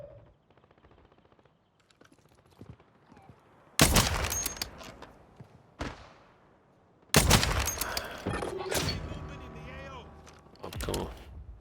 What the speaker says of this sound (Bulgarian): Вътре на прозореца един стреля по мене.